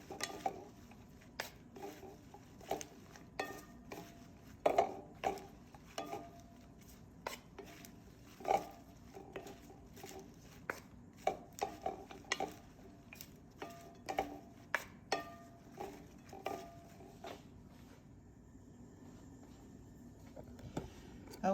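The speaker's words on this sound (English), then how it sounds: "I love having my salad tossed so that every little piece of my lettuce gets covered with a little bit of that dressing" Salad with dressing being tossed in a bowl: soft, irregular clinks and rustling taps of utensils against the bowl, fairly quiet and steady, with no talking.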